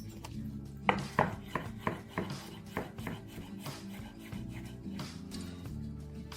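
A knife slices thinly through a garlic clove on a board, a run of crisp, quiet taps and short chops at an uneven rhythm, close up, with a faint background hum.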